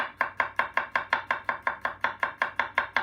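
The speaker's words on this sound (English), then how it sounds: "take my garlic. I just want to slice it real fast." Garlic cloves sliced fast with the tip of a knife on a cutting board: a steady run of about sixteen crisp, evenly spaced taps, close and clear, with no voices.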